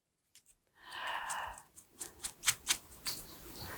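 Scissors snip paper into rounded ear shapes for a lion craft, a burst of rustling followed by a series of sharp, close cutting clicks in an uneven rhythm.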